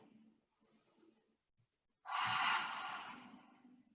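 Deep yoga breathing during a held pose on a mat, a soft airy inhale followed by a long, loud close exhale through the mouth, with no talking.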